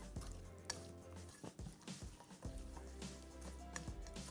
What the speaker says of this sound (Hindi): थोड़ी सी मसाले की भुनाई कर लें